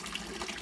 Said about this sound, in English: I'm gonna do a water change now.